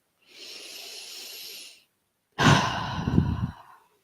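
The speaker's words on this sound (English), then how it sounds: "take a nice deep breath in" A deep breath in during a relaxed tapping exercise: a long, soft airy inhale, then after a short pause a fuller, rougher breath that fades out, close and quiet with no talk.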